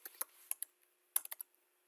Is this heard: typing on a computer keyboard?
yes